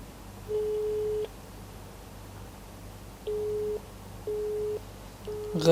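A phone busy signal sounds when calling someone: four short, evenly spaced steady tones, each roughly half a second long, with quiet gaps between them over faint background noise. A brief clatter comes at the very end.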